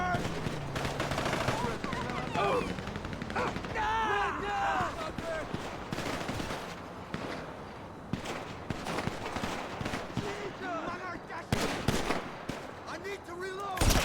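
Heavy gunfire in GTA 5 Online, with dense machine-gun bursts and scattered shots crackling throughout, loud and close, under constant chatter from players.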